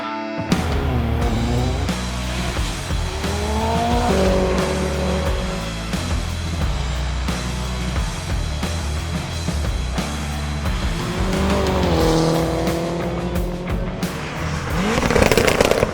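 A 300bhp track car laps a race track, its engine revving up and down through gear changes, loud and close, rising to a harsh peak near the end.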